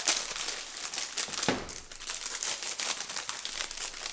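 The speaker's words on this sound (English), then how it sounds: "get some scissors, and cut open all of your cookies" Cookie packaging is snipped and pulled open with scissors from a cookie kit, giving a steady run of close crinkling and tearing plastic with no voices.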